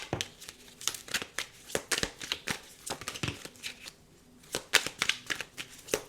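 Tarot cards shuffled by hand, a close series of crisp riffling slaps and flicks in uneven bursts with one brief pause, no voices.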